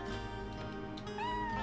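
In the Chrono Cross video game, a cat gives a short, rising meow near the end, heard over dense, steady game music.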